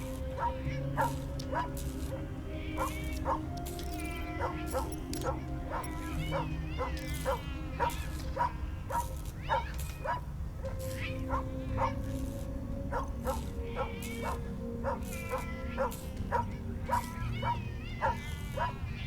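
A small dog in the video game Tales of the Neon Sea yaps repeatedly in quick, sharp barks and yips over a steady game soundtrack, loud and close, with character voices speaking between the barks.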